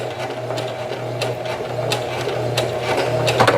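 A sewing machine runs a zigzag stitch in a library sewing class, keeping up a steady mechanical whir with quick rhythmic needle clicks from start to finish, close and clear with no talking.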